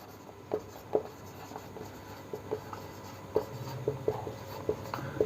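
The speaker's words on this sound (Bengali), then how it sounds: "আমরা লিখছি" Pen or pencil writing out coordinate geometry working on paper during a class 11 maths lesson, a series of short scratchy strokes in uneven rhythm, close and fairly quiet, with no talking.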